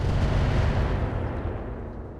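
Heavy weapons discharging in the mech combat game RogueTech, a loud, dense low rumble of booming fire that rolls on steadily and eases off slightly toward the end.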